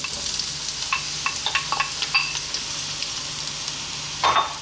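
Eggplant dropped into hot oil in a pan sizzles steadily, with a broad hiss throughout and scattered crackles and pops, plus a louder burst of spatter near the end.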